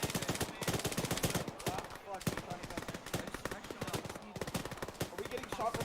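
Dense, rapid gunfire crackles through a firefight in the military shooter ARMA 3, bursts of automatic and single shots overlapping near and far, with voices talking beneath the shooting.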